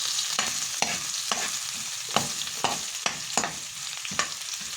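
Whole black peppercorns stir-fry in hot oil in a pan ahead of adding crab, with a spatula scraping the pan in a regular rhythm over a steady close sizzle and no talking.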